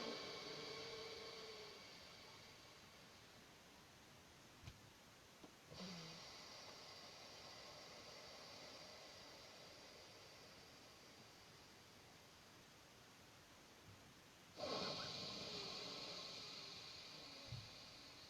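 Slow, deep breaths drawn in and pushed out through the nose during a breathing exercise, soft airy hiss close to the mic with long inhales and brief pauses between, no talking.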